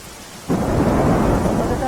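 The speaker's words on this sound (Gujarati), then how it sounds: "ગ્રામ્ય વિસ્તારમાં વહેલી સવારથી જ છૂટો છવાયો વરસાદ જોવા મળી રહ્યો છે" Rain with thunder over a rural area of Gujarat: near-silence, then after half a second a sudden loud, broad roar of heavy rain and deep rumbling thunder that holds steady to the end.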